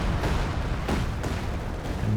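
Land Mattress rocket artillery barrage in Company of Heroes 2, a dense rumbling run of blasts with a couple of sharper thuds standing out, continuous for about two seconds with no talking.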